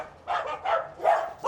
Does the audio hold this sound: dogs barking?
yes